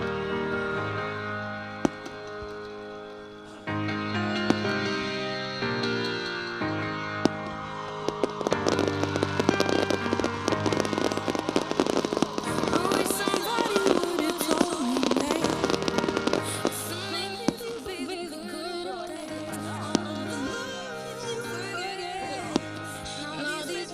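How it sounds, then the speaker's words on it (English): A fireworks display for a high school graduation celebration: repeated booms and crackling bursts, some sharp single reports and some dense crackling volleys, going on loud and continuous for the whole stretch with no talk. "enjoy the fireworks show lighting up the sky just for you"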